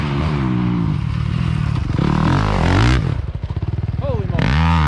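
Dirt bike leaning through a deep rut, engine revving and labouring with rising and falling pitch, clattering and scraping, with a voice heard over it.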